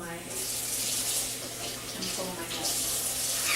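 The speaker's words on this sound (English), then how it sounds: "So I will wash my hands again" Tap water runs steadily into a sink as hands are washed, a continuous close splashing hiss with faint talk briefly underneath.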